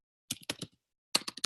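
Keystrokes on a computer keyboard, a quick burst of several clicks, a pause of about half a second, then a second rapid burst, close and crisp with no talking.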